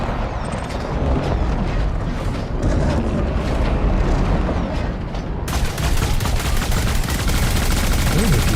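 Sustained loud gunfire in the space game Elite Dangerous: Odyssey during a Christmas event, a steady rapid barrage that grows harsher and brighter partway through, with no voice over it.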